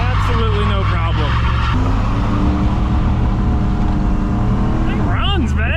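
A 1980s-era Chevrolet Camaro IROC-Z barn find with a 305 V8 roars steadily as it revs and pulls, engine pitch climbing and dropping under a voice talking over it.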